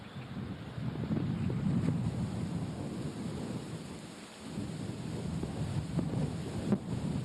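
Wind gusts across an open golf course in a low, steady rumbling roar, swelling and easing slightly with a brief lull midway, no talk.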